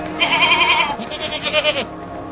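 A goat or sheep gives a couple of wavering, nasal bleats close by, two calls in quick succession with a brief gap between them, no talking.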